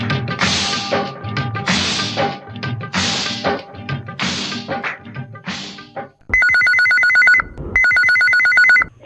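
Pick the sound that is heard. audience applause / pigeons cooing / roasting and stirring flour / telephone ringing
telephone ringing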